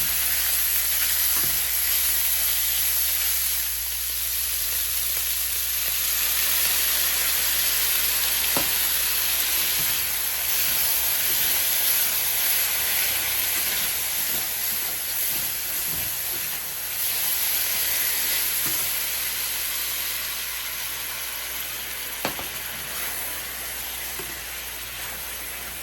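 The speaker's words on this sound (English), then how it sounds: "Cooking it on high heat because I want it to stick and brown." Pork sizzles and fries in a pan on high heat, a steady close hiss of spitting fat running throughout with occasional small pops and scrapes, and no talking.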